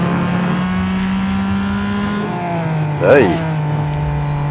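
The Acura ARX-05 race car in Real Racing 3 holds a loud, steady engine drone heard from the cockpit, with a brief pitch dip and flare around a gear change, and a voice briefly speaks over it.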